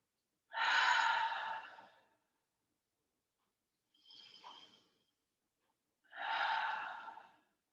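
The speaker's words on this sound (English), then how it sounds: "Slow inhale." A slow breath in during a yoga twist, heard as three soft, airy breath sounds. Two longer ones bracket a shorter one in the middle, close and quiet with no talking.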